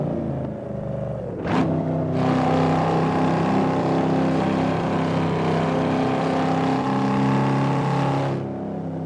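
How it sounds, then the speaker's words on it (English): A 2002 Chevrolet SS Camaro engine running, a deep steady rumble with a sharp rev near the start, then a sustained loud drone that cuts off near the end, close by. "Sounds like a big 4-cylinder."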